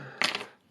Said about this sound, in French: maintenant, on va assembler le triple sur cette cuillère rondelle